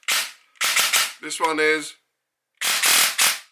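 An indoor-build Asta gel blaster fires gel balls through a chronograph in sharp, snappy bursts of two or three shots, with a short spoken remark between the volleys.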